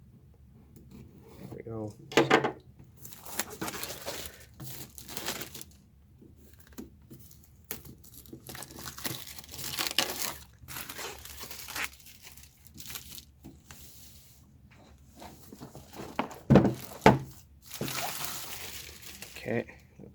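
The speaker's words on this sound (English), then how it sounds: "Be careful so I don't rip the box or damage the box." A Zombicide Green Horde board game box is opened and unwrapped, with the plastic wrap tearing, crinkling and rustling in irregular bursts and some sharp rips, close and fairly loud, and a voice talking briefly between the handling sounds.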